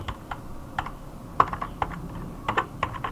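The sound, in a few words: typing on a computer keyboard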